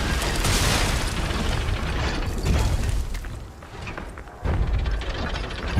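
Artillery strikes pound the battlefield in Lies of P, a loud sustained rumble of booming impacts with a mechanical, grinding edge, dipping briefly before a fresh heavy blast near the end.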